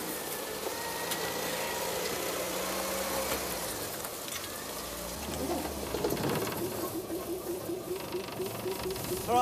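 An old car engine runs nearby, with mechanical clicking and grinding as the vehicle is handled, while faint voices and a bird chirping sit in the background.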